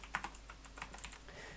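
Quick bursts of keystrokes on a computer keyboard while entering Unity script code, close and fairly quiet, with irregular clicks and brief pauses.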